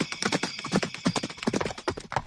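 A horse gallops with rapid, loud hoofbeats clattering in a steady, driving rhythm, close and alone with no voices over it.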